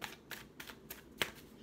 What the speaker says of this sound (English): let's pull 3 cards